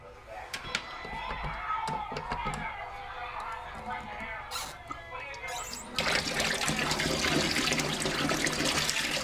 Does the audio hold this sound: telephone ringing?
no